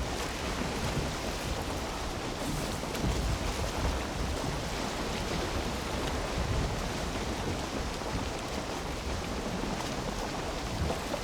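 Karve boat sailing across open water in Valheim, a steady, unbroken wash of waves and wind rushing around the hull, loud and even throughout with no voices.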